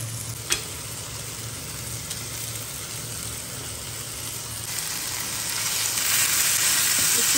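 Chicken pieces sizzle steadily in a hot frying pan, a continuous crackling hiss with a brief clack early on, growing a little louder toward the end as the heat rises; no talking.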